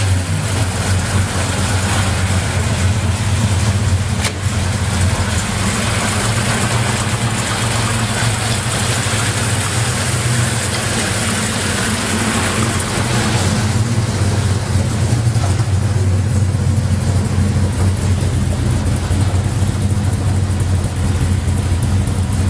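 A 350 small-block Chevy V8 swapped into a 1986 Jaguar idles steadily and loudly up close, a deep continuous rumble with no talking over it.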